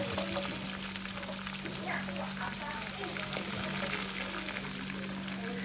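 Onions fry with garlic and ginger in a pan, a continuous soft crackling sizzle like light rain, steady and moderately close, under a faint low hum and some background voices.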